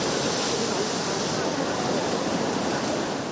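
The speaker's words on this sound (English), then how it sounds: "a huge wave splashed onto the promenade, soaking residents even 10 meters away" Huge sea waves crash onto a seaside promenade, giving a continuous dense roar of surf and spray that holds steady and loud without a break.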